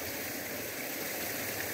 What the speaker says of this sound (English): I didn't even know there was a stream up here.